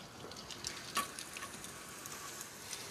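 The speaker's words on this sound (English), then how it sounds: "Shallots into the pan." Finely chopped shallots fry in olive oil and butter in a pan, a quiet, steady sizzle with small crackles and pops, close and without talk.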